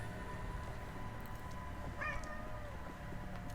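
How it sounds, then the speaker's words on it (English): A pet cat meows insistently over a steady background hum, with one sharp, clear meow standing out midway and no one speaking. "And by baby, I mean a cat."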